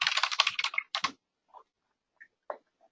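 Quick burst of rapid keystrokes on a computer keyboard, close and crisp, followed by a few isolated taps after a pause.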